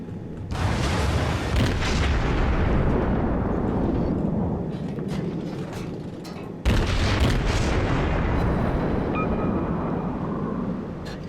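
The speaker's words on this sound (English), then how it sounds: "That is a lot of firepower incoming." Heavy naval artillery thunders in World of Warships, with loud booming salvos and long rumbling roars filling the whole stretch, and a second sharp blast hitting midway before the rumble slowly fades.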